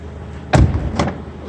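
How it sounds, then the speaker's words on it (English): A 2016 Dodge Dart SXT trunk lid pops open with a solid thud, followed about half a second later by a second softer clunk, both close and loud against a quiet background. "Open up the trunk."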